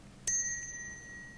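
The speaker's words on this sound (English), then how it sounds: "we are going to very, very quietly, calmly ring the bell" A single bell is struck once, softly, and its clear, bright tone rings on and slowly fades, close by and alone.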